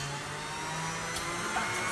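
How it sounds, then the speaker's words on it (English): An electric mixer runs on speed 5, whipping ingredients for a Valentine's bake with a steady, loud, unbroken whir and no pauses. "we're going to whip it up, so it's going to get noisy again"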